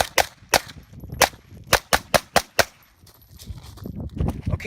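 About ten sharp handgun shots fired at a target while advancing from roughly twenty feet, a fast uneven string of loud cracks, then a pause and a muffled rustle as the shooter moves.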